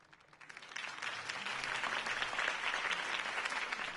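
Crowd applause swells in after a brief quiet moment and holds as a dense, steady wash of clapping.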